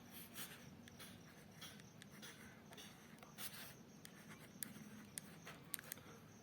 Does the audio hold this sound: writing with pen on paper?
yes